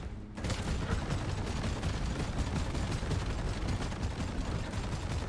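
Thunderhead autocannon in Deep Rock Galactic firing at a goo bomber, a loud, rapid, continuous stream of heavy shots that starts abruptly and keeps hammering without pause, with no talk over it.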